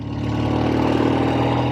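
A 1964 Triumph Thunderbird motorcycle engine idles steadily with a little choke still on, giving an even, close, moderately loud putter with no voices.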